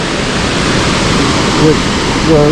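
Steady broadband roar of gorgeous falls on the Pitt River, loud and close, filling the whole stretch, with a brief voice rising over it near the end.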